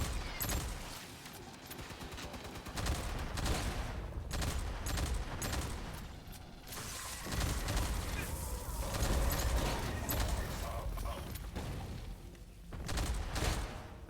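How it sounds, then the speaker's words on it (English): Double-barrel shotgun fire in the sci-fi shooter game Aliens: Fireteam Elite, loud repeated blasts amid dense combat noise with other gunfire and creature sounds filling the whole stretch. "the double barrel shotgun's fine"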